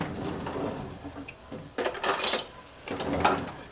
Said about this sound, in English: I'm going to get a little spoon